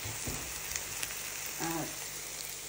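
Tomatoes frying in a pan for tortang talong, a steady soft sizzle running through the whole stretch with a few light clinks and a brief tonal squeak near the end.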